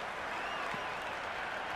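A cricket crowd applauding in the Cricket 26 video game, Australia 2007 against England 2007, a broad, steady wash of clapping from a large stadium audience, continuous and even throughout with no voices on top.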